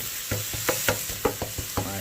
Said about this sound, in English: And green onions in and getting sauteed up, just about ready.